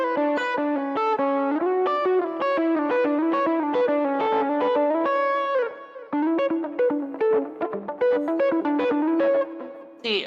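An electric guitar plays a quick, flowing lick in sixths through distortion and chorus effects, with bright, sustained double-stop notes, a brief pause midway, then more phrases, played alone without speech.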